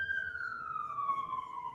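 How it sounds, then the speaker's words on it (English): An emergency vehicle siren on its way to a nearby hospital, a steady falling wail holding loud and clear throughout over a low background rumble. "That siren."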